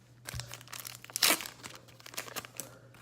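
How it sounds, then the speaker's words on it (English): A Pokemon trading card pack is torn open by hand, with crinkling foil rustles building to one sharp rip, then scattered crunching as the wrapper is pulled apart, close and fairly quiet. "Now let's open set another Pokemon trading card."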